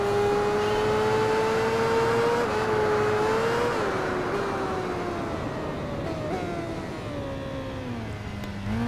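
A Suzuki GSX-R 1000 motorcycle engine in the racing video game Tourist Trophy screams at high revs, holding a steady whine with small pitch steps as gears change and speed shifts, loud and continuous.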